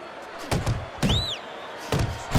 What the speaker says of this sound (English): Double jab there by Dixon.